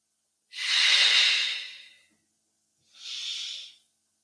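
A deep inhaling breath during a yoga exercise, close and clear, drawn long for about a second and a half, then after a pause a second, shorter breath follows, with no talking.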